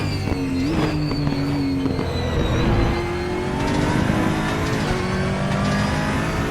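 Aquila CR1 race car engine lapping Portimao in RaceRoom Racing Experience, a loud continuous high-revving drone with rising and falling pitch through gear changes and no talking.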